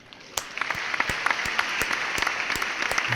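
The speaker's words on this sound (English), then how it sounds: "Can we just clap it up for Riot?" Applause from an audience, a steady wash of clapping hands with sharper individual claps standing out, moderately loud and continuous for a few seconds with no talk over it.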